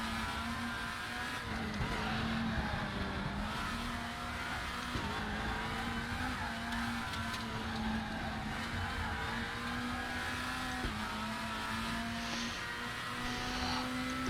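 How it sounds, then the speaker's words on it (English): A WTCC17 Volvo race car's engine drones steadily at Salzburgring in the RaceRoom sim, with its pitch rising and dropping through gear changes and brief tyre scrubs under braking, heard alone with no talk. "If you just lock up into this corner, it just keeps wanting to go straight on you."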